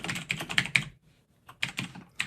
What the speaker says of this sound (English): and I hit enter on the keyboard